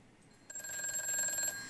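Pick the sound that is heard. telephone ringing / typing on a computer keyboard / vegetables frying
telephone ringing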